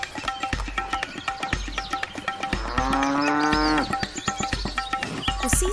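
Buffaloes grazing in a grassy field give a long, loud lowing moo over a busy rhythm of regular clicks and thumps, close and clear, with no talking.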